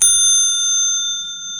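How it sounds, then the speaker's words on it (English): A recumbent bicycle's safety bell gives one bright ring that then sustains and slowly fades, loud and close, with no voices. "And we also have our safety bell."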